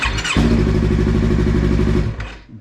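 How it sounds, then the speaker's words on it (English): A Yamaha YZF-R3 motorcycle fitted with a keyswitch elimination harness cranks briefly and then fires into a loud, steady idle close by, settling and fading after about two seconds. "Bike starts."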